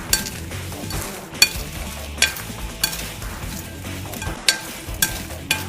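Hot bread croutons tossed with spices in a bowl, a steady dry rustle and scrape with regular clinks of a utensil against the dish roughly every half second, close and fairly loud, no speech.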